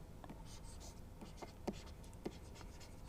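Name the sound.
writing a formula on a board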